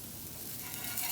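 Dosa batter cooking in a cast iron pan over medium-high heat, giving a soft, steady sizzle that grows slightly louder toward the end, with no talking.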